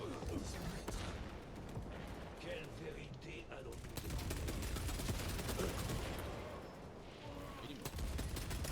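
Dense, sustained gunfire from a multiplayer shooter's operations mode, rapid automatic bursts and shots layered continuously throughout with loud, crowded battle noise.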